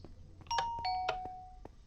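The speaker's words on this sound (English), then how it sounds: "There's the bell." A bell rings in the video game Minecraft, a couple of bright chiming tones with short ringing tails over a low background hum, fairly quiet and brief.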